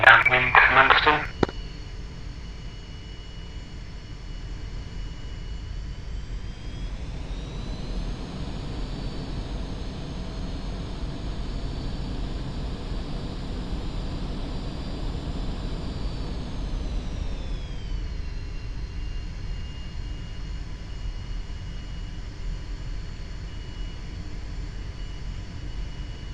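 An F-5E jet scrambling on the runway at Manston in a flight game: a brief clatter, then a steady turbine whine that rises in pitch and later drops back, over a constant low rumble.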